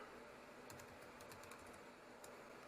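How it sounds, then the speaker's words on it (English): Light clicking of a computer keyboard while an email address and password are entered during a Windows 10 clean install, with faint clustered taps and short pauses over a quiet hiss. "Now we're going to type in the email address and password that goes with the"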